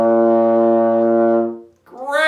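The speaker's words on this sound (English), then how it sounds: "for trombone today, we're going to start with note number 1, concert B flat" A trombone sustains a single steady concert B flat with the slide all the way in, full and close, before it stops and a brief higher-pitched sound begins at the end.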